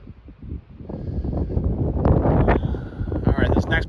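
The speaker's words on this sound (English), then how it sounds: "whenever that wind is up, it's cold" Wind gusts buffet the microphone on an exposed mountain trail, rising into loud rumbling blasts with rustling, while a person talks briefly.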